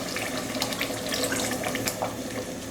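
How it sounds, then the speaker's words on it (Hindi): Water splashes steadily into a pot of beef for a beef pasanday with coconut gravy, a close, continuous rushing pour lasting a few seconds with no talk. "इसके बाद हमने इसमें 2 to 3 ग्लास हमने वाटर डालना है।"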